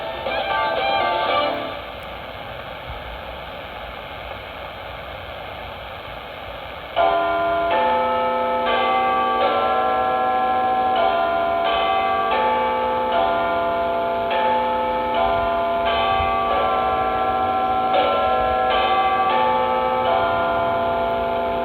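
Big Ben's bell chimes over BBC Radio 4 longwave reception, with a muffled, band-limited tone. Quiet hiss opens the passage, then a long series of resonant, ringing strikes follows at a steady, measured pace, each tone overlapping the decay of the last.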